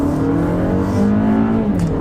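A 2021 Toyota Avalon AWD accelerating hard in sport mode, its engine note loud and close, climbing steadily in pitch as the revs rise without a break, then stepping down at a brief gear shift near the end.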